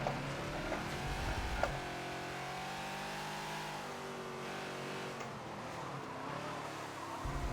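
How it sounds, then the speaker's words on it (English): A Ferrari race car in the Forza racing game drives past with a steady, droning engine roar, revving and shifting pitch as it passes, loud and continuous throughout. "That's the Ferrari."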